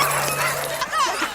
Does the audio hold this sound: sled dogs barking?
yes